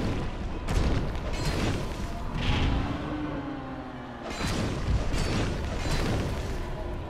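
The Last Giant boss in Dark Souls 2 stomps repeatedly, heavy booming thuds and crashes rolling in at intervals, loud and dense with rumbling debris between the impacts.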